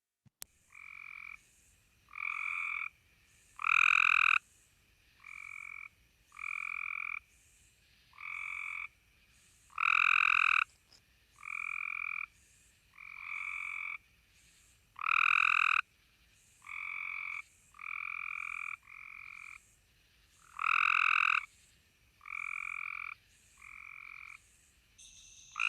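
Mechanical-sounding frog trills recorded outdoors, about a dozen short croaking bursts repeating at a steady pace, several of them noticeably louder and nearer than the rest, with quiet background in between and no voices.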